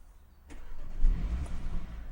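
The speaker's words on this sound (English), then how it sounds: "Right, so I'll start the engine." A car fitted with an immobiliser cranks and fires up, a short starter click followed by a low engine rumble that settles into a steady idle, close by and with no voices.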